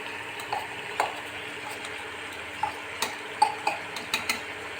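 An aubergine and potato curry sizzles softly in a pan as crushed seeds are added, with scattered light clinks and taps of a utensil over the steady frying.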